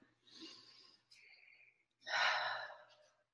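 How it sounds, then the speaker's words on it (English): A slow deep breath close to the microphone: a long airy inhale, a brief pause, then a louder, fuller sighing exhale, with no speech over it. "take a deep breath"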